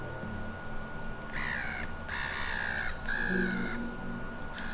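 A bird, probably a crow, gives three harsh caws in a row at moderate distance against a steady background hiss, with no talking.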